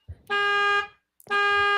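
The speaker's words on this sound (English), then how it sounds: "now there some alarm is going off" A car alarm goes off in two loud, steady electronic blasts, each lasting about half a second, separated by a short silence, with no talking over them.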